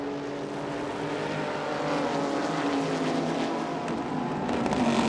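Race cars in the 1999 ALMS race at Canadian Tire Motorsport Park drive around the track, a sustained engine roar with rising and falling pitch as cars pass, growing slightly louder toward the end.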